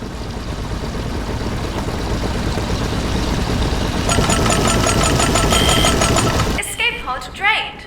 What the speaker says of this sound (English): Engine running.